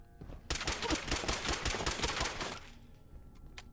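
Rapid bursts of automatic gunfire in Fallout 4, a dense volley of sharp cracks for about two seconds, loud and close, then quiet.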